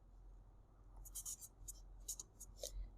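A pen writes out a solution during a math lesson, with short scratchy strokes in several quick bursts over a low steady room hum and no talking.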